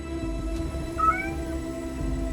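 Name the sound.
cat meowing in video game 1666: Amsterdam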